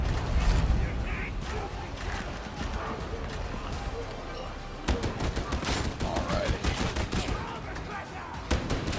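Dense gunfire in Warhammer 40,000: Darktide as an Ogryn lays down covering fire, a steady stream of heavy shots with sharp bursts in the latter half, mixed with game clatter and some voices.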